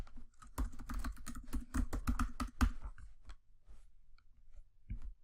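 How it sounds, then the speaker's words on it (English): Password being typed on a computer keyboard: a quick run of close, crisp key clicks for about three seconds, then a few scattered taps and faint quiet. "so I will type that again"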